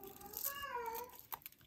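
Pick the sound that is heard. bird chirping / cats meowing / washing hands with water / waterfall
cats meowing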